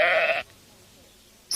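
A sheep bleats once, loud and close, in a single sustained cry that cuts off abruptly into near silence.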